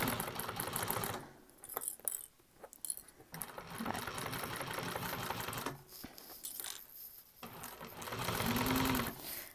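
A sewing machine stitches around a bag lining in several close bursts of rapid needle clatter, stopping and starting with short pauses and faint handling noises between runs.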